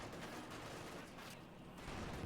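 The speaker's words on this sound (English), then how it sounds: "Field gun opening up and missing" A field gun fires in the Company of Heroes 2 strategy game, a dense burst of booming, crackling gunfire that fills the short moment with no voice over it.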